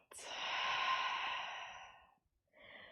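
A long, breathy exhale during a yoga session, drawn out for about two seconds and close to the mic, then a brief pause before a softer breath begins.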